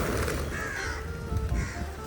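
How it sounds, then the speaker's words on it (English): Crows caw over a roadside scatter of fried, salty gathiya snack, a noisy cluster of close, harsh calls overlapping continuously with outdoor background. "The crows are very happy with that."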